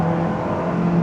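Honda S2000 sports car engine held at high revs while driving, a steady loud close whine over one continuous second.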